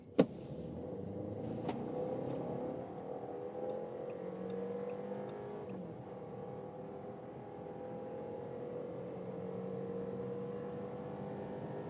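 A 2026 Audi A6 Avant with the 2.0 engine accelerating hard in dynamic mode from 40 to 120, a steady cabin-heard engine drone rising gently in pitch, with a brief click at the start.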